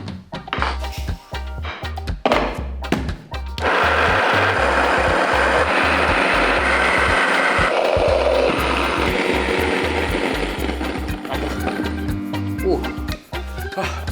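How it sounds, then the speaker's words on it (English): Grain mill grinding spelt and triticale into flour: a few mechanical clicks and clunks, then a loud steady grinding whir that runs continuously with a low rhythmic throb, close and alone. "So, as I said, let's start grinding"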